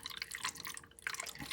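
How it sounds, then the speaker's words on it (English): Water trickles and drips down through a hydroponic lettuce planter, a close, bright splattering patter that runs continuously with a brief lull midway. "you pour the water up there. Look, that's coming out. And it goes down into the bottom."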